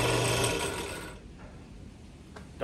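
A Central Machinery drill press runs with a dense mechanical whir and rattle that winds down over a couple of seconds, ending with a faint click.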